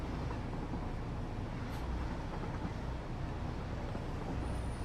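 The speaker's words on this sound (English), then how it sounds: "As my train makes my way over there" Steady rumbling of a train rolling along in the factory game Satisfactory, a continuous dense roar of wheels and motion at even loudness with no pauses or voices.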